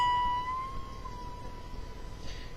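A guitar note picked at the 19th fret and bent up a half step, a single sustained tone that rises slightly and then holds steady, ringing out fairly quietly and alone before fading.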